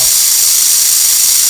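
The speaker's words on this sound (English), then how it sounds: "this is the glider inflating its bladder." An underwater glider inflating its bladder makes a loud, steady, hissing rush that holds without a break throughout.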